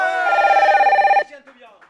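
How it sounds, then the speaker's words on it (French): A telephone bell rings in loud, fast, steady trills for about a second and then cuts off abruptly, followed by a few faint mumbled voice sounds. "dès que je lève la main, le téléphone sonne"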